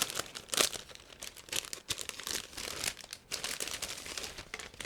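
Crinkly rustling as a resealable plastic bag of model kit parts is opened and handled, with irregular crumpling bursts close by and no talk.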